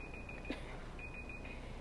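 A timer beeps in a steady electronic tone, sounding in two stretches with a gap between, held moderately loud over a noisy room background with no talk.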